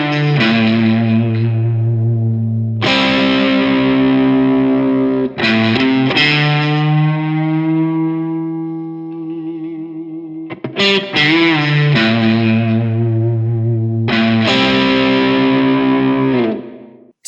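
Electric guitar riff through heavy fuzz distortion, loud sustained chords and wide string bends in several phrases with short gaps between them, a long bent note ringing out in the middle.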